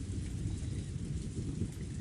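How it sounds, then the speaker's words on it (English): Steady rain with a low rumbling thunder bed from the Umineko visual novel, a continuous dense wash of downpour and distant rolling thunder with no voices. "At that time, the sound of thunder rang out, giving the illusion that the lightning had intercepted the ring"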